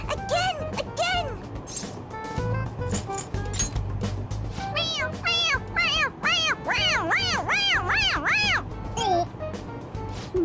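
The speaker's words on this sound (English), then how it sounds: "It meows when you press on its head." A toy cat in Persona 5 Royal gives a string of repeated electronic meows, rising and falling in pitch, mixed with people talking and laughing nearby.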